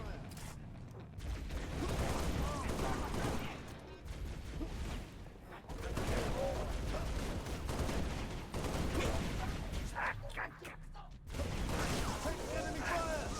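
Heavy gunfire rattles in the Halo Reach video game as dense continuous bursts, loud and close, broken by brief pauses over a roaring battlefield din.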